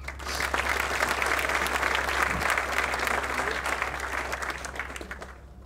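Steady, full applause from an audience at a university law awards ceremony fills the room for several seconds without a break, then tapers slightly near the end.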